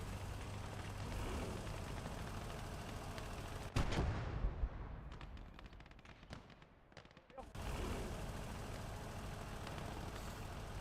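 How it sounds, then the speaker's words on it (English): Artillery fire thunders in Gates of Hell, a Finnish conquest battle on hardcore difficulty, with one loud, sharp blast booming near the middle and rolling away into distant rumble, set over steady battlefield noise with occasional voices. "let's position our artillery so we can finally open some fire"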